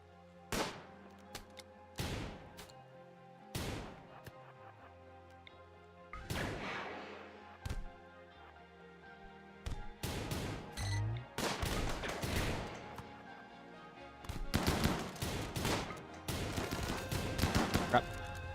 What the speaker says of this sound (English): They're still shooting us.